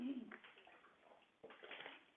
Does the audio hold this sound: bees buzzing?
no